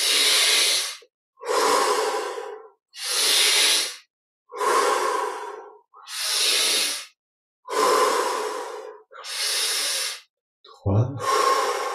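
Slow, deep breaths of a person during guided meditation, eight long even exhales or inhales spaced about every second and a half, close and clear with silence between them.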